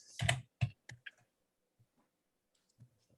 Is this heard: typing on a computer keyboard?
yes